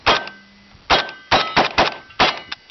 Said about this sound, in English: Let's go ahead and shoot the rim up some more.